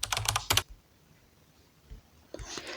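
Quick bursts of soft key taps on a phone keyboard while entering text into a settings search bar, two short flurries separated by a quiet pause, close and faint with no voices.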